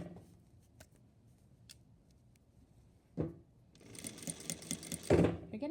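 A sewing machine backstitches a seam finished with binding, Hong Kong style. Faint clicks and fabric handling come first, then a close, rattling motor whir runs for about two seconds.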